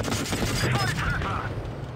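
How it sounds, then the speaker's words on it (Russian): Tank gunfire in World of Tanks Blitz: booming shots and mechanical clatter sound close and loud, overlapping with someone talking excitedly in Russian. "Стреляй, стреляй, ПЗ."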